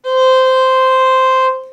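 A single sustained C natural bowed on the A string of a string instrument, held steady and clear for over a second and then fading out, with no talking.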